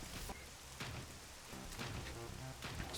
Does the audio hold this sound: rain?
yes